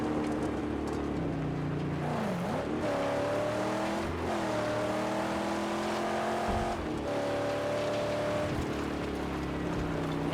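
Car engine in the Mad Max video game, a steady drone with rising and falling pitch as the vehicle accelerates and shifts, loud and continuous over rumbling wind and terrain noise for the whole stretch.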